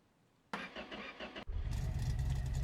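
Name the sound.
car engine starting as the key is turned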